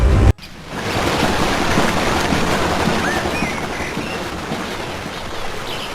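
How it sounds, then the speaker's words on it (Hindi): The broad Brahmaputra river flowing near Jorhat, Assam: a continuous loud rushing wash of water mixed with wind buffeting, steady throughout after a brief cut at the start. "असम के जोरहाट शहर के पास बहती ब्रह्मपुत्र नदी"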